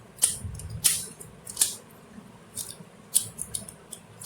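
Crisp clicking snaps as a non-magnetic pyramid twisty puzzle is turned, sharp individual clicks in an irregular sequence, close and fairly quiet.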